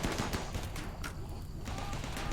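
Rapid turret gunfire against a zombie swarm in the video game RimWorld, a dense, continuous burst of overlapping shots at low level with no pauses.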